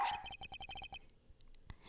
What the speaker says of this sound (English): And here is your accuser. The police dog.